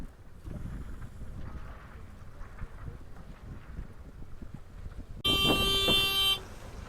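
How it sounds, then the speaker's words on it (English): Wind buffeting the microphone during a sailboat race at about 12 to 13 miles an hour, a continuous low rumble, with a loud horn blast sounding for about a second near the end. "Winds increased a little bit. It's up to 12, 13 miles an hour."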